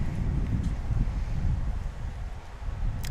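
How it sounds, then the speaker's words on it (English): Wind gusting across an outdoor archery range during a recurve women's gold final, a steady low rumble of air against the microphone, fairly loud and continuous with no talk. "The wind's picked back up a little bit"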